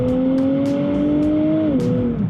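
A Nissan Z NISMO pulls out onto the road, its engine climbing in a loud, close rising tone before a gear change drops the pitch.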